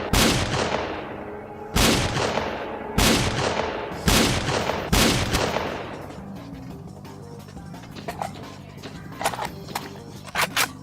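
Gunfire in a firefight in S.T.A.L.K.E.R.: Clear Sky: four or five loud, evenly spaced shots ring out, then a quieter stretch with scattered distant pops and rattles.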